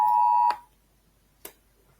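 Phone alarm beeping indoors: one sustained electronic tone cut off abruptly, then a short soft click or tap about a second later.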